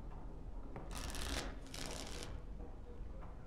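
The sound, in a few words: playing cards being shuffled in video game Dragon Age: Origins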